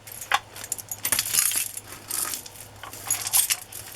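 A big glass bead necklace clicks and jangles as it is handled, with bright, irregular bursts of rattling strands close by and no talking.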